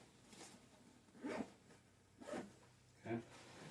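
Three short zipper pulls on the netted fish pocket of a bug-out backpack, close and quiet, each a quick rasping zip with brief pauses between them.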